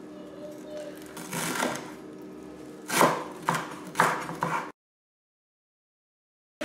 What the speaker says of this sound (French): je vais d'abord commencer par couper le persil